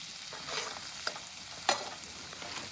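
Spices sizzling in hot oil in a pan, with a pinch of asafoetida and a spoon of onion-garlic masala just added for a stuffed chilli dish; a steady soft frying hiss with a couple of sharp crackles and stirring scrapes.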